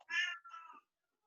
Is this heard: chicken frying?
no